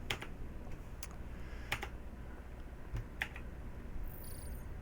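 Scattered presses on a computer keyboard while playing Star Citizen Alpha 2.5, a few distinct close taps spaced apart over a steady low background hum, no voices.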